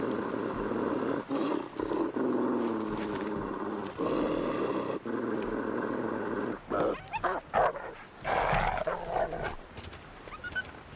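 A wolf in the survival game The Long Dark snarls and growls with rough, sustained rumbling, then breaks into choppy barking snaps toward the end; close and fairly loud, with no speech over it.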